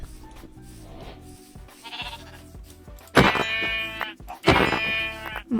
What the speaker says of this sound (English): I'm also going to kill all these sheep because we need tons of food